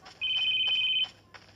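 A phone rings inside a Roblox horror game, one long bright electronic trill lasting most of a second against faint background game noise, then a brief quieter blip after a pause.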